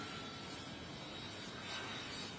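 An aeroplane's engines roar steadily as it arrives at Port Moresby for a royal visit, a broad, constant wash of noise heard from a distance without any talk.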